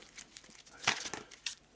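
Arkham Horror card game playing cards being shuffled by hand, a close, quick riffle of crisp papery flicks and crinkles lasting a couple of seconds with no talk.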